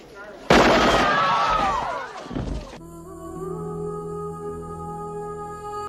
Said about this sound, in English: Michael Ironside and the science police start shooting up the place